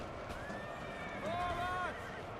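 Lifeguard cavalry horses charge into line infantry in Napoleon Total War, with whinnies and neighs rising over a steady rumble of hooves and distant battle noise, while a player talks over it.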